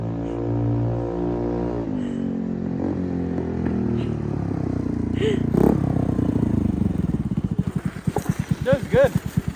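A Honda Navi minibike engine, said to need carburetor tuning, drones steadily and then swells as it rides past close by, ending in rapid sputtering pulses.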